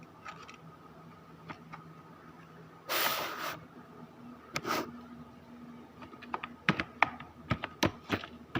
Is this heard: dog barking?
no